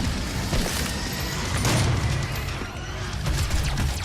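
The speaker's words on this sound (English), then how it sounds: "No! Rocket launcher." Loud, dense blasts and crashing booms from rocket launcher explosions in a Doom-style first-person shooter with a Hell Knight enemy, rolling continuously with rumbling low end and no pauses.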